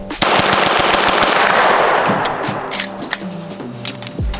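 Rapid automatic gunfire from a CMMG Descent 9mm firearm, a dense, loud stream of closely spaced shots running nearly the whole time before cutting off abruptly at the end.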